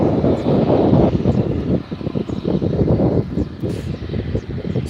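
A private jet at Faro Airport, its steady engine roar and wind rush filling the whole clip, loud and continuous with slight swells, no voices.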